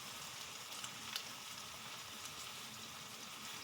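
Beef sautéing in a pan gives a soft, steady sizzle with faint crackles and small pops. It stays quiet throughout, and no one speaks.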